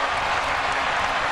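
Basketball crowd at a 2003 Lakers vs Timberwolves playoff game roars in a dense, sustained wash of cheering and applause throughout.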